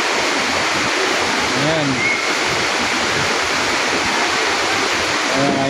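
Busay Falls in Malilipot, Albay pours in a steady, full rush of falling water close by, with a person's voice speaking briefly over the roar.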